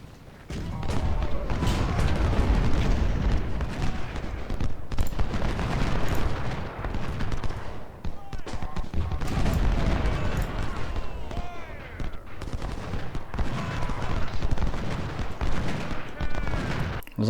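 Musket volleys and cannon fire crackle and boom in dense, continuous bursts from a Civil War battle in Ultimate General: Civil War at Chancellorsville and Salem Church, loud and sustained throughout.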